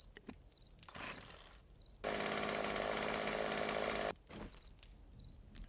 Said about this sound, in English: There's our nice, fully functional chainsaw.